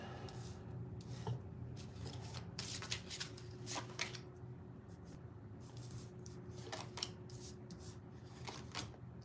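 Tarot cards shuffled by hand at a live reading, a run of crisp riffling bursts and soft rubbing slides repeating irregularly, close and fairly quiet, with no talking over it.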